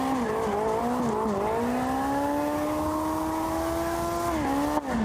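A drift car holds a long slide through a tightening corner during qualifying, its engine droning at a high, steady pitch with small dips as the throttle shifts, tire noise underneath, loud and close, ending in a sharp knock.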